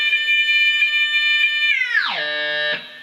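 Electric guitar harmonics ringing at the 7th fret through an overdrive pedal: sustained, distorted bell-like tones that bend sharply downward partway through, as if from a whammy dive, and then fade.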